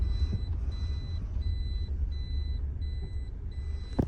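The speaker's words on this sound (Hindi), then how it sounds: "ये हमारी गाड़ी स्टार्ट हो चुकी है" Reversing beeps from a vehicle pulling away, a steady series of evenly spaced high beeps repeating about every half second over a low engine rumble, with a sharp knock right at the end.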